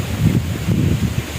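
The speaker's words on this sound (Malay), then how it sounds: "Lagi angin kuat geng dekat sini." Strong wind gusting across a microphone at a riverside fishing spot, a loud low rumbling buffet that rises and falls with no talking.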